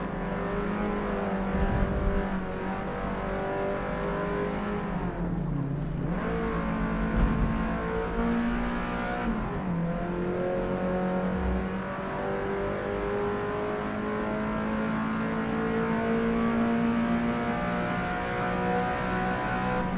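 Racing car with a 4-speed gearbox in Forza Motorsport, engine roaring loud and steady throughout, revving up through rising tones with brief dips at gear changes.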